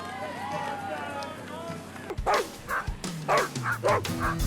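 Sled dog huskies racing through the streets and trails of Anchorage during a sprint event, with excited yipping, whimpering and barking from the team over a busy outdoor crowd, voices talking throughout.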